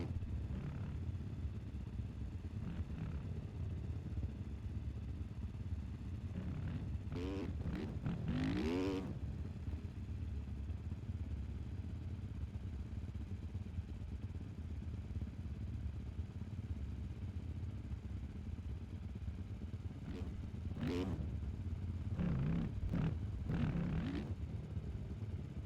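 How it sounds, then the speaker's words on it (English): 450 motocross bikes racing in a Pro-Am moto at Pala make a distant, continuous engine drone with a few bikes revving and shifting closer by in brief rising, wavering bursts, moderately quiet throughout. "Get ready to go racing for our 450 Moto number 2 of our Pro-Am class"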